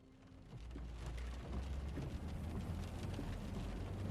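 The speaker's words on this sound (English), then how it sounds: "The rain was coming down in sheets" Heavy rain pours down steadily, a dense, even hiss of drops with a low rumble beneath, loud and close, with no voices.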